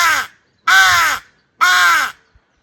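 A Simple Crow call blown by mouth imitates a crow, giving three loud, harsh caws in a steady rhythm, each about half a second long with a short silence between them.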